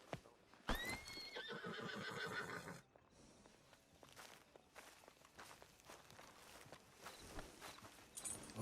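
Horse in Red Dead Redemption 2 gives a loud whinny, then its hooves clop along in a steady walking rhythm, close by.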